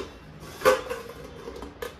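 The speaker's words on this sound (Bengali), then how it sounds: "এই টুকটাক একটু একটু বাসন আছে, এগুলো তুলতে হবে সমস্ত জায়গায় জায়গায়।" Dishes being put away in a home kitchen give two light, separate clinks, one early and one near the end, against quiet room tone.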